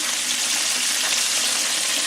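Chicken pieces frying in hot oil, a dense continuous sizzle and crackle of bubbling fat, close and steady with no voices.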